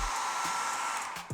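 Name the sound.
hair dryer drying suede sneakers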